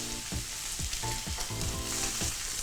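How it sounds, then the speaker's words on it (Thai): A salmon steak fries in a pan with a little butter added, giving a loud, continuous crackling sizzle with repeated spitting bursts close by. "เมื่อปลาเราเริ่มจะได้แล้วนะครับผมก็จะใส่เนยไปเล็กน้อยนะครับ"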